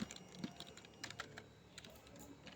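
Quick, light keystrokes on a computer keyboard, typed in short irregular bursts at close range, quiet with no talking.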